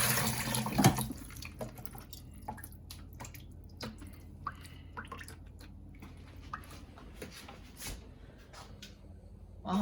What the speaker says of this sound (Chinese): 用绿豆芽用这个热水给它冲洗一遍